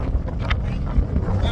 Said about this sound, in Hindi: बहुत तेज हवा चल रही है, ऐसा लग रहा है सब उड़ा ही देगी